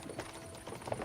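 Horses pulling a cart in Kingdom Come Deliverance 2 clop along in a steady, soft rhythm of hoofbeats, close and low in level.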